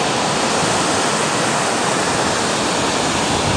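Seashore water rushing in a dense, steady roar, loud and continuous like surf washing in, with no voices heard.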